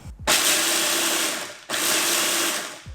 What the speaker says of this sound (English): I'm literally using the loudest food processor ever.